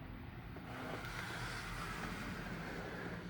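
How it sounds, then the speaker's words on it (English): Inside a car at an automatic car wash while cleaning product is sprayed over the vehicle, with a steady, dense hiss and wash of spray against the body and windows and no voices. "The crystal cleaning product is now being applied to your vehicle."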